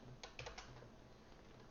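Keystrokes on a computer keyboard, a short burst of a few quiet clicks at the start followed by a faint lull, close but soft with no talking.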